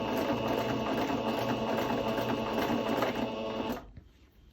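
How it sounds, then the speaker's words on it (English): Sewing machine stitching a skirt, a steady close whirring run with a fast mechanical needle rhythm that stops abruptly near the end and leaves near-quiet room tone. "Keep sewing and sewing and sewing and realise your bobbin's run out of thread."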